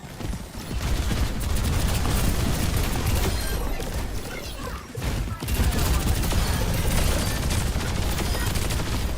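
Dense, continuous gunfire in the Overwatch video game, aimed at a tank, with rapid shots and blasts crowding together loudly for nearly the whole stretch, dipping briefly midway before resuming.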